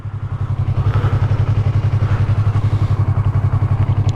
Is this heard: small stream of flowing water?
no